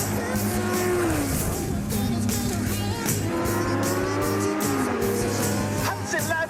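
Formula 1 race cars, Lauda and Hunt, running nose to tail with loud, high-pitched engine whines that rise and fall under a dense crowd-like din and rumble.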